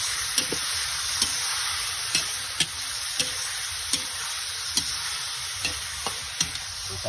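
Afritada meat sautés in a hot pan with a steady, close sizzle, while a spoon stirs and scrapes at regular intervals, leaving short knocks spaced through the frying.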